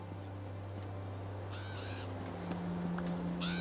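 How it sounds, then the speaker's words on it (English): A few crow-like caws sound in The Elder Scrolls Online, two short calls over a steady low ambient hum, moderately distant. "There's the birds"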